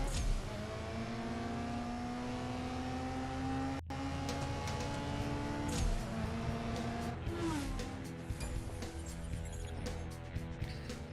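Race car in the CSR2 mobile drag-racing game accelerating hard on nitrous, a steady loud engine drone with rising pitch sweeps as it shifts through gears, running continuously without pauses.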